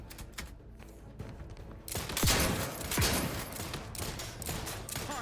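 Gunfire from a firefight in the video game The Outer Worlds 2, with light clicks and scattered shots at first, then louder overlapping bursts and sharp reports in a rough uneven rhythm.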